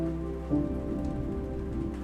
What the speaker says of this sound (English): Today, as you can see, it's a very rainy kind of a weather